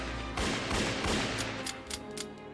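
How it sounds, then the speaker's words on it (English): A robber's gunfire aimed at Batman, a rapid burst of loud shots followed by a few scattered sharper cracks, close and alone without talk. "the robber steps out of hiding and starts shooting at him"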